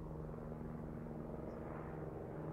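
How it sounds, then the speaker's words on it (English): Airplane engine drone in a song, a steady low rumbling whir held at an even level, distant and quiet, with no voices. "I don't want to hear plane noises"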